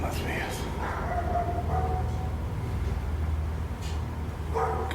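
A dog barks and yips a few times, fairly faint and partly buried beneath ongoing talking and a low background hum.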